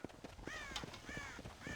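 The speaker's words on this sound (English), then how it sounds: "God damn crows!" Crows cawing in the video game Red Dead Redemption, several harsh repeated caws at moderate distance over a busy background with faint hoof clatter.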